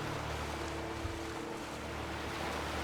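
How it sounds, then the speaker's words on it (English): Ocean waves in Skyrim: a steady, close wash of surf with broad rushing noise and a low rumble, continuous and even throughout, with no voices. "the wave sound effect is just really relaxing"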